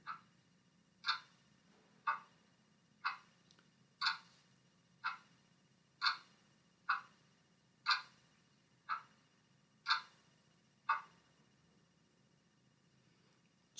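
Regular clock ticking, one crisp click roughly every second for about eleven seconds, modest in volume over a faint low hum, then stopping before the end.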